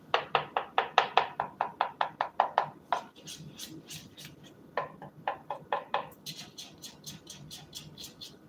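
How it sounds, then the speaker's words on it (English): Lumpy batter stirred in a bowl, a fast, regular run of close knocking and tapping strokes that slows into scattered, lighter clicks and taps over a low background murmur. "still got some lumps in it. That's why I'm still stirring."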